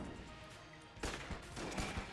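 Flak cannon firing extra shots in the video game Enter the Gungeon, a dense burst of rapid gunfire breaking out halfway through after a quieter stretch, loud and close with no voices.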